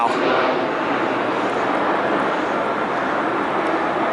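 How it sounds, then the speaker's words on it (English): An airplane passing low overhead, a loud continuous broadband roar that stays steady throughout the short stretch, with no talk over it. "when the airplanes go over"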